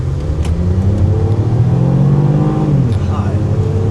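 A Ford Mustang accelerates hard, its engine rumbling loudly and climbing in pitch as it revs, close by, with voices talking over it.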